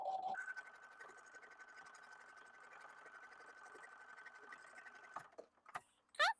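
An embroidery machine stitches appliqué fabric with a fast, rhythmic needle patter over a steady motor whine. It runs close and continuous for about five seconds, then stops, and a few clicks and handling sounds follow.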